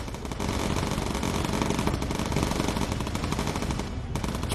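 Machine gun fire in the World War II bomber game Bomber Crew, a dense, loud, unbroken stream of rapid shots with a brief dip near the end.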